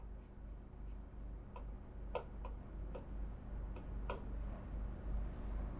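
A pen or chalk writes figures in a cash-book entry on a board or paper, giving a steady close scratching with repeated short strokes and taps over a low background hum.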